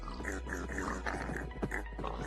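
Pig grunting in Minecraft (ATM8 modpack), a steady run of low snuffling grunts close by, continuous and fairly loud with no talk over it.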